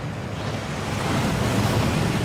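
Water pours down in a Gringotts vault waterfall in Hogwarts Legacy, a steady broadband rush that fills the scene without a break and with no talking.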